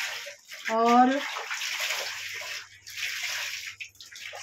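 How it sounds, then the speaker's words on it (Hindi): Wet clothes lifted out of a tub of washing water give short bursts of splashing and dripping at close range, with a voice speaking briefly over them. "इसी तरह से मैं अपने सारे कपड़े निकाल लेती हूँ पानी में से।"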